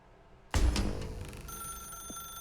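A telephone in The Stanley Parable starts ringing abruptly with a loud bell burst, then settles into a sustained, bright ringing tone that carries on steadily with no voices.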